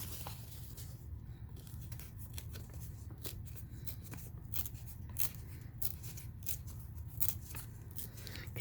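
Paper being torn by hand while altering a composition book, a quiet series of crisp rips and crackles with short gaps, faint and close, without talk.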